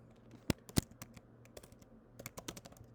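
Someone types on a computer keyboard, a sparse run of crisp clicks with two louder taps early on, then a quicker burst of keystrokes close to the microphone.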